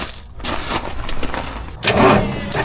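A worn-out 1981 Kenworth cabover truck engine cranks with a whirring starter, then fires and catches near the end into a loud, rough rumble close by.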